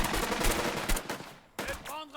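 Rapid sustained gunfire in the Burden of Command video game, dense machine-gun bursts for over a second, then a short pause before another burst with a brief voice.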